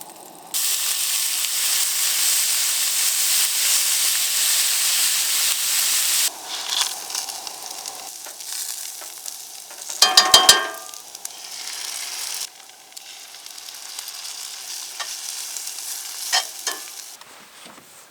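Sausage and potatoes fry in a pan at a truck campsite, a loud steady sizzle that drops lower after a few seconds, broken by clanking stirring and scraping.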